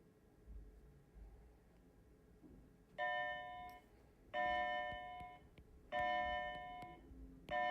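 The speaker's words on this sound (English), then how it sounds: "I think the bell's about to go off" A school bell chimes in repeated two-to-three-second electronic tones over a quiet room hum, sounding about four times in a steady pattern.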